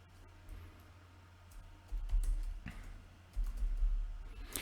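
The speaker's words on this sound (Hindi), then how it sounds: "ये हिंदी में टाइपिंग" Keys tap in quick, uneven runs on a computer keyboard while someone types in Hindi, soft and nearby, over low rumbling handling thumps; no one speaks.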